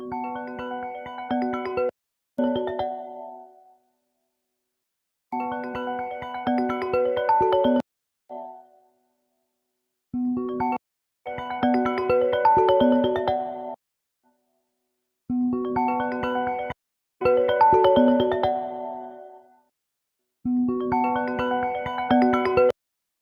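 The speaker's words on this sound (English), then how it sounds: "God damn it, more phone calls." A phone ringtone playing in repeated bursts with short silent gaps between them, loud and close with no talking.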